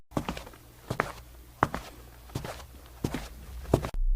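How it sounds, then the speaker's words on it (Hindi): Footsteps of someone walking behind Motu in a Motu Patlu cartoon, a steady series of soft thumping steps at a walking pace, fairly close, with no talk over them. "तभी मोटू को अपने पीछे किसी और के चलने की आवाज आई"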